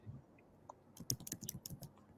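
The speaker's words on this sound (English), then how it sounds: "So right now I can hear you're typing" Someone types on a computer keyboard in a quick, uneven run of soft clicks and key taps, faint and close, after a brief quiet moment with a few isolated taps.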